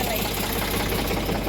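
A big tractor engine drones steadily while sowing peanuts in a field, a continuous close mechanical rumble with a rattling, knocking edge that holds level throughout.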